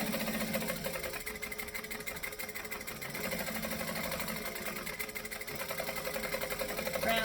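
Sewing machine stitching forward and then back stitching on a travel bag flap at a 4 stitch length, a steady close mechanical whir with rapid needle rhythm running throughout.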